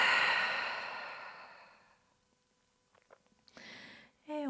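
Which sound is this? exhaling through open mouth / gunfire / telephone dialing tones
exhaling through open mouth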